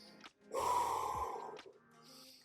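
Heavy audible breaths held in a glute bridge during a lacrosse ball rib mobility drill: a short sharp intake, then a long strained exhale, with a quieter breath trailing off at the end.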